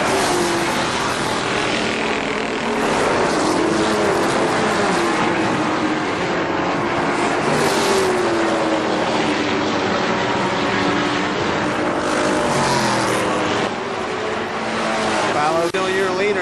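ARCA SuperCars stock cars racing at Kil-Kare Speedway in 1998, a steady roar of engines filling the whole stretch with passing surges, while a commentator talks over it throughout.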